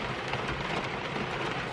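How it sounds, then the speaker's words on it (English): Hail comes down in a heavy, continuous rattle and hiss during a storm, dense and loud with no pauses and no voices. "it's more like hail than snow"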